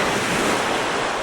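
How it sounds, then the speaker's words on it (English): Ocean waves surge and wash steadily up a shallow sandy beach in winter, around a fishing tripod, as a continuous close, loud hiss of surf mixed with gusty wind buffeting the microphone. "I think the wave caught it"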